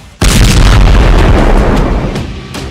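A rocket or missile blowing up during an Israeli missile defense interception: one sudden, very loud boom that hits after a brief quiet and rolls on as a heavy rumble, with smaller pops trailing off.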